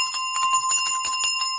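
A hand bell rung during a prayer to Ekeko dolls, jingling continuously with bright, sustained metallic ringing and steady shaking strokes, close and fairly loud with no voices.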